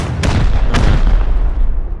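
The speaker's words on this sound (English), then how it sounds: "Oh, we got the double explosion too." Two heavy booming blasts land in quick succession in the Rust video game, loud and close, over a low rumbling background.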